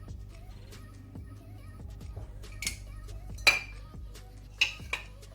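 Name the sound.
mixing tabbouleh salad with utensils in a bowl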